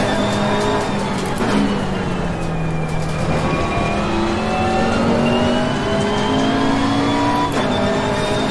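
A race car engine in a racing video game drones steadily at high revs, its pitch gliding slowly up and down as the car holds speed, loud and close with no talk over it.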